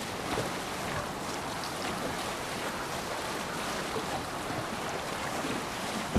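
A Viking longship sails at sea in Assassin's Creed Valhalla, carried by continuous wind and the rush of waves against the hull. The wash stays steady and moderately loud throughout.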